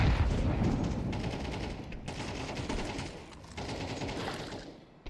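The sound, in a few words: rifle gunfire in Counter-Strike video game match on Overpass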